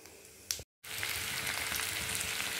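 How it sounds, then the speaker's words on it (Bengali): Potato and pumpkin pieces go into hot oil in a wok, with a brief cut of silence before a loud, steady sizzle and crackle of frying that continues close up. "আলু কুমড়োটা তুলে দিলাম, এটাকে এবার লাল লাল করে একটু ভেজে নেব"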